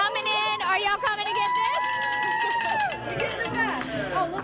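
A crowd gathers at an Academy Sports store after the 2009 New Orleans Saints NFC title win, loud cheering and excited voices mixing with a near voice talking over the hubbub.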